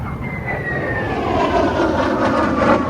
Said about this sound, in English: we have another jet coming in